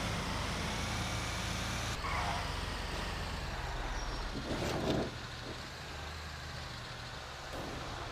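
A tow truck drives in the game GTA Online, a steady engine rumble with broad road noise, a brief hiss-like burst midway, continuous and close.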